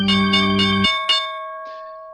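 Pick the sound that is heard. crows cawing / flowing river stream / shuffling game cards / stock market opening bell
stock market opening bell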